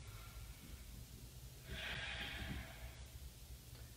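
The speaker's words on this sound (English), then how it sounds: "2 deep breaths here" Slow, deep breath drawn in and released during a seated chair yoga stretch, a soft airy swell near the middle over a low steady background hum, close and fairly quiet, no talking.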